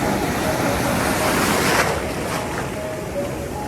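Close, loud ocean surf churns and splashes against a person wading among rocks, a constant rushing wash with a brief swell in the middle and wind rumbling across the microphone.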